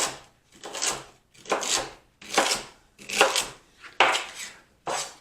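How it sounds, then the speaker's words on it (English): A knife slicing celery into 1-inch pieces on a cutting board, six rhythmic crisp crunching strokes about a second apart, close and alone. "For the celery, no need to be fancy about it at all. I'm just going to simply slice it into about 1-inch pieces."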